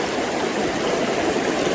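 Fast water rushing through a river riffle during a late-summer brown trout fishing trip, a steady, close, full-bodied hiss and gurgle with no talking.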